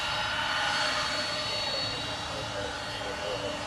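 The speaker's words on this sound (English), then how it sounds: "So I have another Southwest heading over to the reef runway." A Southwest Airlines jet moves toward the reef runway, giving off a steady, loud broadband jet-engine roar with a high whine above it. The sound holds constant and sits close throughout.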